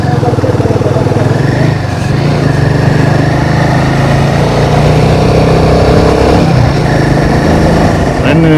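Motorcycle engine droning loudly and steadily on a twisting mountain road toward Adi Kailash in Uttarakhand, with small shifts in pitch as the rider works the throttle through bends.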